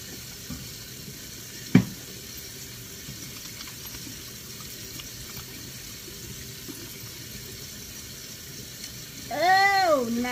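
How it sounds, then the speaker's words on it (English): A kitchen tap runs while hands are washed during home french-fry cooking, a steady wash of water under background noise with a sharp knock early on and a whining, cat-like voice near the end. "I'm washing my hands again"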